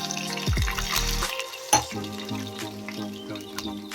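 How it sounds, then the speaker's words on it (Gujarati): Water is poured into sizzling hot oil with green chillies for nylon khaman, giving a sharp burst of hiss and bubbling, followed by a sharp clink and continued simmering crackle. "હવે તેમાં પાણી એડ કરીશું।"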